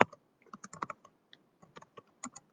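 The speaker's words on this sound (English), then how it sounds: "So I can type that in." Keys tapped on a computer keyboard while entering text into embroidery software, a quick irregular run of light clicks, close and clear with no voices.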